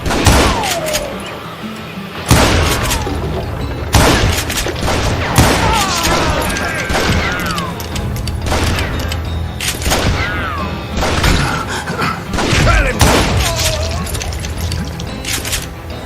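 Rifle shots in the Western shooter Call of Juarez Gunslinger crack out loudly in repeated bursts, roughly every two seconds, each followed by ringing echoes, while game voices shout between them.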